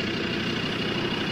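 A car's engine idles steadily up close, a continuous low rumble with an even, unbroken texture and no voices, in a safari-park setting among wildlife.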